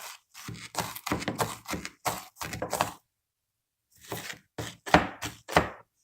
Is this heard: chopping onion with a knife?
yes